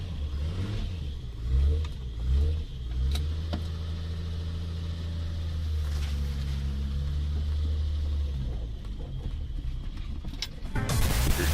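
A car engine runs with a low steady rumble that swells in a couple of surges, holds a droning tone, then rises sharply near the end.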